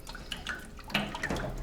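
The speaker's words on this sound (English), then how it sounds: "I'm going to pour quite a bit of it into this other container for starters" Liquid soap batter poured from a large batch of about 8 quarts into another container for a hanger swirl soap, giving a soft continuous liquid trickle with small splashy drips, close and fairly quiet.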